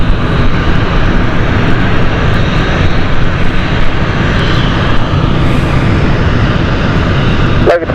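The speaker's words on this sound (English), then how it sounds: "This is the Logan Isle of Man flight heading off the ATR 72." A Loganair ATR 72 turboprop airliner on an Isle of Man flight taking off at London City Airport, a loud, sustained engine roar with a broad rumble, heard close throughout.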